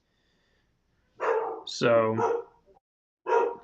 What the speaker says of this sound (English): my dog's going fucking berserk